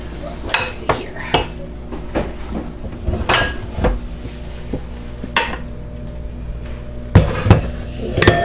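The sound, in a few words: getting a large bowl out of a cupboard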